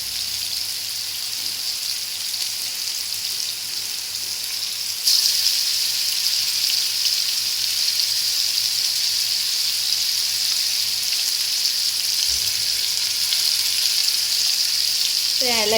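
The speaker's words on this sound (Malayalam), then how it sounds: "ഫ്രൈ ആയിക്കോട്ടെ, അതെ നന്നായിട്ട് ഫ്രൈ ആയിട്ട് നമുക്കത് മറിച്ചിടാം" Fish frying in hot oil in a pan: a steady, loud hiss and crackle that holds for about sixteen seconds, jumps noticeably louder partway through, and ends with a brief clatter.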